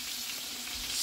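Whole bass frying in hot oil for sweet and sour bass, a steady close hiss and crackle of sizzling grease that holds constant throughout the short moment and swells slightly at the end.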